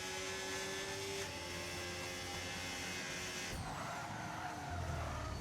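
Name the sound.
race car skidding and sliding around in racing video game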